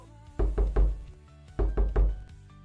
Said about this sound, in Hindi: तो अचानक दरवाजे पर जोर से चोट पड़ी।